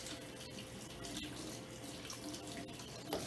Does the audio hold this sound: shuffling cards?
no